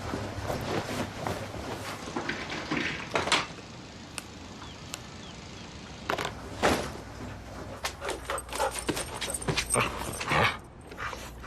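A dog yips and whimpers in short scattered bursts, mixed with clatters and door-like knocks, fairly close, with quieter stretches between.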